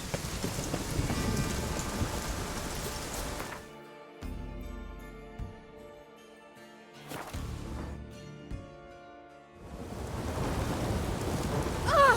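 A thunderstorm in The Witcher 3 game: steady heavy rain hisses, then drops away for rumbling thunder and a sharp crack, before the downpour returns loud and close.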